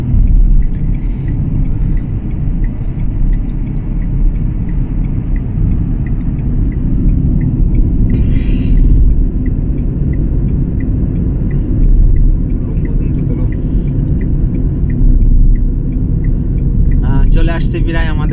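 Car driven at night, its engine and road noise a loud, steady low rumble heard from inside the cabin, with faint higher noises and a brief clatter near the end.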